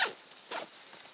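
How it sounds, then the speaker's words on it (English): Heavy-duty zips on a Platatac Medium Assault Pack Mk II being pulled, two quick close zipping strokes with a fainter rasp trailing after, no voices. "good quality zips"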